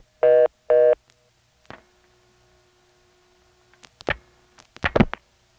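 Telephone line tones on a Georgia local exchange while the hook is flashed and the handset hung up: two short loud tone beeps, then scattered clicks and clunks of the switchhook and handset, with a faint steady line hum between.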